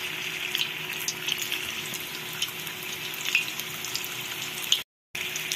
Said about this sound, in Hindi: और इसको धीमी आंच में से धीरे धीरे फ्राई करना है